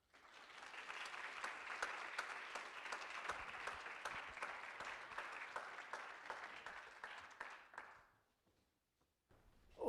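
An audience applauds to welcome speakers onto a stage at a political book event, a dense, sustained burst of clapping that fades out after about eight seconds into near silence.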